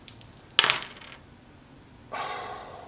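Dice clatter briefly onto a surface during a Company of Heroes tabletop game, a sharp rattling burst that fades over about half a second, followed later by a softer broadband rustle.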